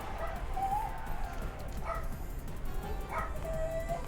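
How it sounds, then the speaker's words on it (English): Several pet dogs bark and yip in short, separate bursts at a moderate distance, some with a whining, whimpering edge, heard over a steady room background. "My dogs are going a little crazy at the moment."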